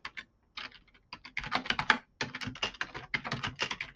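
Steady typing on a computer keyboard, with dense bursts of quick key clicks separated by brief pauses, close and clear with no talking.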